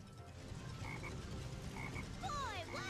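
Black frogs croak in the video game Sonic Heroes, with low rhythmic croaking over steady game ambience and some sweeping electronic chirps near the end.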